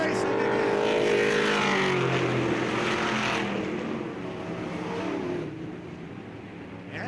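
Race cars roar around the oval at Bureau County Speedway, engines droning loud and close then fading as the pack moves away, with a broadcast announcer talking over the noise.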